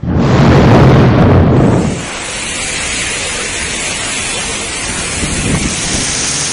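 Heavy monsoon rain in a loud, rumbling roar that could be thunder or a gust, then easing after a couple of seconds into a steady, dense hiss of downpour.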